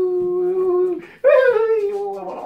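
An excited pet dog whimpers and howls in drawn-out, wavering tones, with a brief pause before a louder rising howl, close by and indoors.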